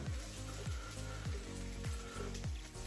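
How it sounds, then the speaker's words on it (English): Mushrooms sizzle and crackle steadily in a hot pan over medium to medium-high heat, a close hiss with a soft repeating thump every half second or so. "you heard the sizzle on the last mushroom"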